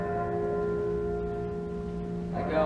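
A bell tolls during a stage performance of Shakespeare's Macbeth, a sustained ringing tone with steady humming overtones lingering throughout, then a brighter strike near the end.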